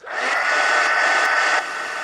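A handheld dryer blows steadily on wet paint on a pink and purple art collage card, a loud continuous whirring hiss that eases slightly toward the end, with no talking.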